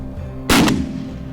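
A single loud, sharp shotgun blast during a South Dakota hunt, close to the listener, with a brief decaying tail and no talking.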